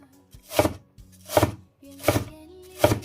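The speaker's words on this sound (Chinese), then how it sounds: "然后再切丝，最后再给它切成藕丁" A kitchen knife chops peeled lotus root into small dice on a cutting board: four sharp, evenly spaced strikes up close, with soft background music underneath.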